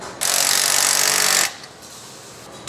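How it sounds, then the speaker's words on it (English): A loud, sustained mechanical whirring burst of an impact wrench running a nut down on a Cadillac CTS-V steering setup, lasting about a second before cutting off to quiet shop background. "You're gonna wanna impact that on, and then throw the factory nut back on."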